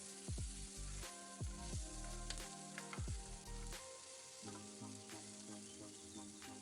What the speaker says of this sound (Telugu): పచ్చిమిర్చి, ఉల్లిపాయ ముక్కలు వేసి అవి కాస్త మెత్తబడే వరకు ఒక స్పూన్ సాల్ట్ వేసుకొని ఫ్రై చేసుకోవాలి